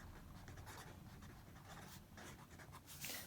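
A pen scratches across a paper page, faint continuous scribbling strokes close by, with no talking.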